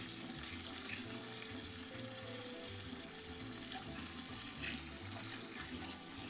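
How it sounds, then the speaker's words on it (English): Water pours steadily into a brewing pot for an amber ale, a constant rushing splash that stays even and fairly quiet from start to finish, with no talking. "And add water."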